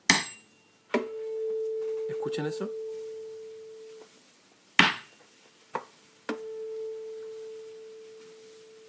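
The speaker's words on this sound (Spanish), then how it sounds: "Este es un diapasón para afinar." A tuning fork for the note A 440 is struck several times, each sharp tap followed by a clear, steady pure tone that rings and slowly fades. A voice speaks briefly between strikes.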